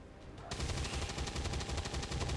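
Rapid burst of Chain Shot gunfire in XCOM 2, a loud, rhythmic run of closely spaced ballistic shots that starts abruptly after a brief quiet lead-in and continues steadily to the end.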